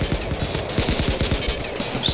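Obsidian mini turrets in Rimworld fire in rapid, evenly spaced bursts of sharp shots, a dense clattering volley that stays loud throughout with no talking.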